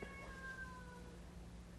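A 4-month-old domestic shorthair kitten gives one short, faint, high meow at close range over a low steady background hum.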